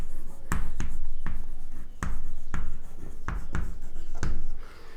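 Chalk writing a question on a classroom blackboard: a run of sharp, close taps and scratchy strokes in quick irregular rhythm, fairly loud and with no talk over it.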